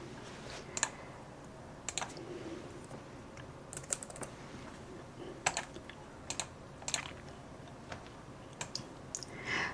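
Irregular bursts of clicking keystrokes on a computer keyboard as business hours are typed in, quiet and close, with short pauses between clusters and no talk.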